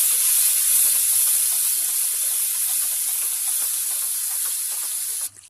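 Masala and red chili fry slowly in oil for chicken jalfrezi, a steady bright sizzling hiss that goes on without pause and then drops away abruptly at the end.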